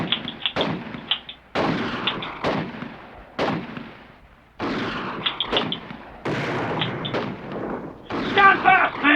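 Gunfire from the ZX Spectrum game Custer's Just Desserts cracks out in sharp, loud bursts, roughly a shot or two per second across the stretch, with short gaps between volleys.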